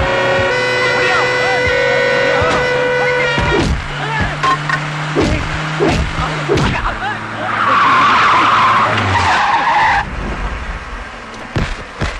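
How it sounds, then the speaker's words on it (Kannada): A car being driven fast with loud, drawn-out tyre skids and screeches, engine roaring up close in a dramatic chase scene, with shouting voices and a sustained horn-like tone over the commotion. "ಗಾಡಿ ಓಡಿಸು, ಗಾಡಿ ಓಡಿಸು."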